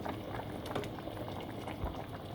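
Chili with meat and too much water boils steadily in a pot, a dense continuous bubbling and popping that stays close and even throughout, with no voices.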